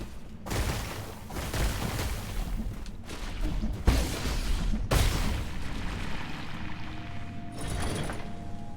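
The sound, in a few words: grenade enemies exploding in video game Nine Sols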